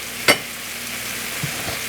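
Already-chopped cabbage for curry cabbage with yams and carrots hits a hot pot with a sharp clatter, then a loud, steady sizzle continues close by, with no talk.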